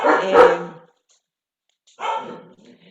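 Two loud, close barks from the speaker's female dogs, one sharp bark at the start and a second after a silent gap of about a second, each short and throaty.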